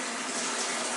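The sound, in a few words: cold water leaking through rusted hull of USS The Sullivans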